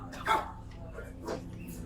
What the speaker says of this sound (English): that's day dog barking like that